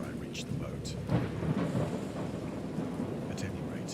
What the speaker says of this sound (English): It's definitely peals of thunder, my guy.